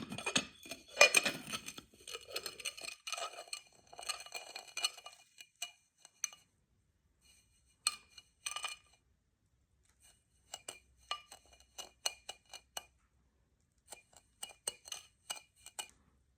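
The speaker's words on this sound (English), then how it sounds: "I'm just going to go ahead and rim my glass" A glass is rimmed in cinnamon sugar, giving sparse clinks and light ticking taps of glass and utensils in a quiet kitchen, clustered at first and then scattered with silent gaps between them.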